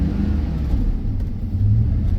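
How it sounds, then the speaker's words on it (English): A van engine revs with a steady low rumble to catch and pull away, loud and close, sustained throughout with a slight surge near the end; no talking. "Sometimes I have to rev this van up a little bit so that it can catch and start moving."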